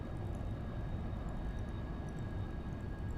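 Steady roar of a Phantom jet's engines on final approach to an aircraft carrier in a flight simulator, a continuous, dense, unbroken drone with no voices.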